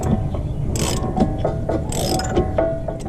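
Hand tools work on a wheel bearing during a 2003-2008 Honda Pilot front repair, giving repeated ratcheting clicks and metallic knocks in an uneven rhythm, close and fairly loud with no talking.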